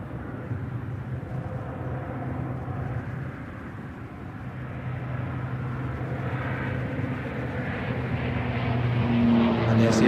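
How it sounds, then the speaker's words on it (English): A hybrid-electric aircraft flies past at the Farnborough airshow, its broad engine drone swelling louder over ten seconds as it nears, with faint voices underneath. "as the aircraft comes back across show center, the pilot will descend down to 300 feet and engage the hybrid system into motor mode"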